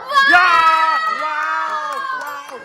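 A crowd of excited people, children among them, shouts a loud sustained "wow" together at a wedding celebration, the voices rising and falling in a ragged chorus.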